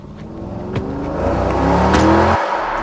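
A car pulls away with a rising engine note that builds over a couple of seconds, close and loud, then cuts off abruptly.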